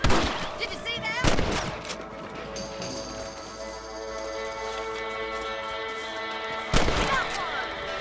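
Gunfire from the Western video game Red Dead Redemption rings out during a rabbit hunt: a sharp loud shot, a second burst, then a long ringing tail with music, and another loud report near the end, with speech mixed in.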